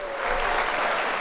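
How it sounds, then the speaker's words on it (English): A canned applause sound effect fires from a button, a brief, full burst of crowd clapping and cheering at steady loudness, heard alone. "I hit the wrong button. I hit applause instead of laugh."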